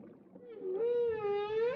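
A long, moaning whale call from the video game Everything, a rising then sustained tonal wail with rich harmonics, loud and close, swelling after a softer onset.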